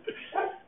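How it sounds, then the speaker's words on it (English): A single dog barks once nearby, a short sharp yelp followed by a longer, lower bark-like sound, indoors at moderate loudness. "Whose dog's barking?"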